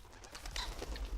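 Birds in the video game Sir, You Are Being Hunted give soft cooing and chirping calls against a faint outdoor ambience, quiet and somewhat distant, with a few short repeated notes.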